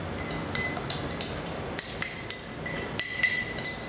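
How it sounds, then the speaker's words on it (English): Bruléed banana is moved from a glass into the bottom half of a metal cheater tin, producing a run of irregular light clinks and taps of glass and metal, close and fairly quiet, with no talking. "I'm now going to transfer that into the bottom half of the cheater tin"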